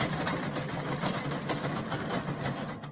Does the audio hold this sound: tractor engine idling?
yes